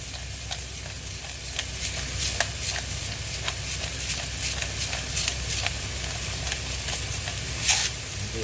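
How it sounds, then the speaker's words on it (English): Onion and garlic sweat gently in an oiled pan with salt and pepper, a steady close sizzle with occasional stirring scrapes and crackles throughout. "You just want to sweat the onion and garlic off."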